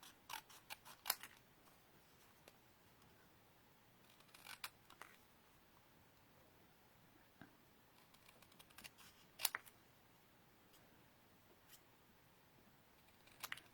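Scissors snipping through paper to cut out a sentiment for a handmade card, in quiet, scattered bursts of crisp clicks and snips with pauses between, close and fairly faint.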